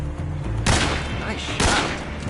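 Gunshots in Metal Gear Solid 3: Snake Eater, two sharp loud broadband blasts about a second apart over a dense game backdrop of low hum and rumble.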